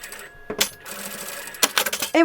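Sewing machine stitching the first seam of a patchwork chenille tote bag, short bursts of rapid mechanical whirring separated by pauses and handling clicks, close and moderately loud with a voice speaking between the bursts.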